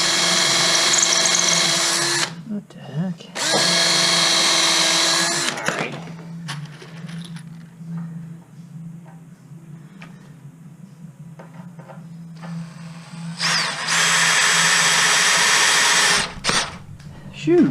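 A DeWalt DCD709 hammer drill driving a screw, three loud close whirring bursts of the motor separated by pauses with a lower hum and handling noise between them.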